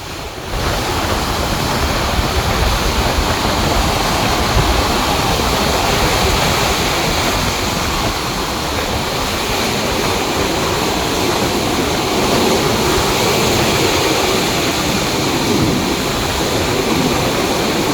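Rough seas on a beach during typhoon weather, a loud continuous roar of crashing surf and gusting wind buffeting the microphone, steady and unbroken with no voices.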